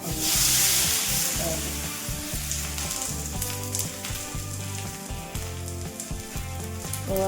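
Steady hissing sizzle of a pumpkin thalipeeth (dhapate) flatbread frying on a hot oiled griddle, heard close up beneath background music with a tonal melody.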